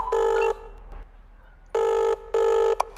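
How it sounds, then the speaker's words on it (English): A telephone in a VR plumbing game rings in three electronic bursts, one short pause and then two more rings close together, loud and clear over a quiet background. "Pick up the phone and call an electrician."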